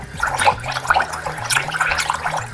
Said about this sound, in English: submerge the entire airbrush underwater and flush and back flush out